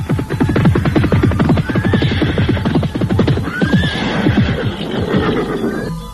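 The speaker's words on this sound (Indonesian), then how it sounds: "terdengar derap orang-orang berkuda, semakin lama semakin dekat" A group of horses draws nearer with a dense, rhythmic clatter of hooves as horses neigh and whinny loudly over the pounding, as a sound effect in a radio drama.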